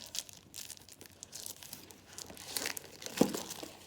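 Plastic wrapping being ripped and crinkled off a Stampin' Up! swag box, close and fairly soft, with scattered rustling bursts and a sharper tear near the end.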